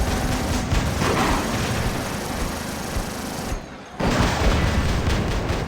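Rapid machine gun fire from the robot combat video game War Robots, a dense, continuous rattling barrage that breaks off briefly near the end before resuming, loud and close.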